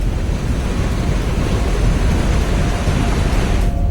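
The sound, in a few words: flood water surging in waves along a street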